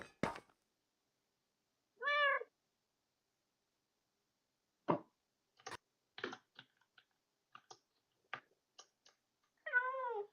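A cat meows twice, once early and again near the end, each a short wavering call, amid scattered faint clicks and taps of keyboard typing in a quiet room.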